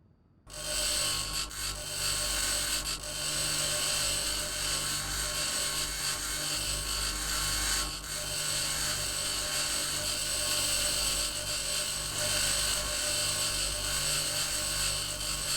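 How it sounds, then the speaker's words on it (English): Continuous grinding on a building in the Mars survival game Occupy Mars, a steady buzzing, whirring drone that starts within the first second and holds loud and unbroken for about fifteen seconds, with no talking. "We're gonna have to grind the building to find it."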